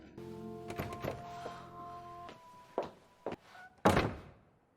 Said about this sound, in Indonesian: tiba-tiba ada seseorang mengetuk pintu